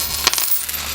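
Coins taken from a wallet clink and jingle together at close range, one bright metallic rattle followed by a few lighter ticks as they settle.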